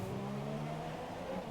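A Toro Rosso Formula 1 car driving through a chicane, a steady, fairly faint engine drone with a high tonal whine, heard briefly and continuously.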